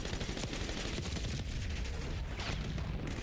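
Rapid automatic fire from a Rekova automatic pistol in Black Ops 6, a dense, continuous stream of loud, close gunshots filling the whole moment without pause, with no talking.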